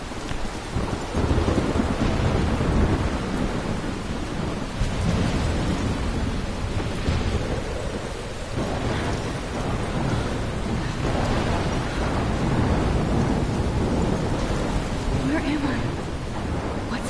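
Thunderstorm in the Life is Strange video game: steady heavy rain hisses throughout with deep rolling thunder rumbling underneath, loud and continuous, no talking.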